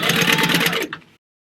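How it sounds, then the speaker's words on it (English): A sewing machine stitches across fabric on a 3/8 inch seam at a 2.5 stitch length, a steady, close, fast mechanical whir that runs for under a second and then stops abruptly. "Now we're going to take this to the sewing machine, and at 3/8 of an inch we're going to sew all the way across here"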